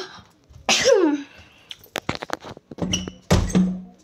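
A single sharp sneeze bursts out indoors, followed by quieter rustling and a few short taps and knocks, with a brief murmur of breath or voice near the end.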